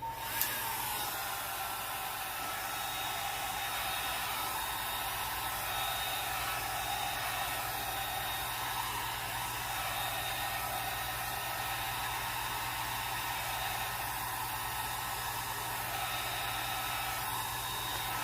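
A handheld blower hisses steadily and continuously for the whole stretch as it pushes alcohol ink across resin, a close, even airflow with no talking.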